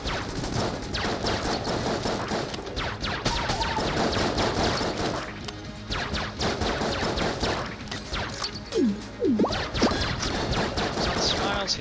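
Rapid, continuous gunfire from the player's short-range weapon in Enter the Gungeon, dense bursts of shots and impacts layered with game effects and occasional voice.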